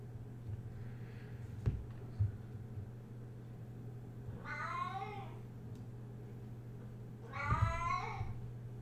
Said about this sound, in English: Oh my cat.